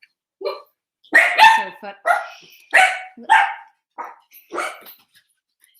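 Two young puppies barking in a run of short, sharp yaps and yips, about eight quick barks spaced unevenly and heard fairly close, with a brief spoken remark among them.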